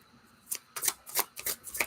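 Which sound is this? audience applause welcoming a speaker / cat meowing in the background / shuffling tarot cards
shuffling tarot cards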